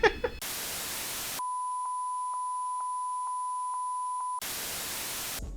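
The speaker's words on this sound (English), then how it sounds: "this is the fire alarm going off right now. This is a real one." A building fire alarm is going off, giving a run of about eight evenly spaced pulsed beeps at a steady pitch. Bursts of loud hiss or static come before and after the beeping.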